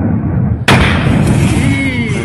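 A failed rocket blows up in a huge explosion: a sudden loud blast cuts in and rolls into a sustained, dense roar that fills the rest of the moment, heard from some distance.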